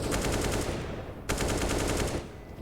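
Wall-bang gunfire in the Counter-Strike video game during an ESL Pro League match, two long rapid automatic bursts, loud and dense, separated by a short gap.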